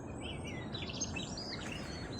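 Birds call and chirp at a wildlife haven by the Knucker Hole pond in Lyminster, faint twittering calls overlapping above a steady low outdoor background rumble.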